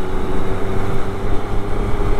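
A 2012 Triumph Speed Triple 1050 motorcycle riding on a bumpy road, heard as a steady, loud engine drone mixed with heavy wind rush, with no voices.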